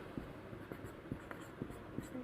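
A pen scratching across paper while an address is written, soft irregular strokes and taps, close and quiet, with faint low murmuring behind.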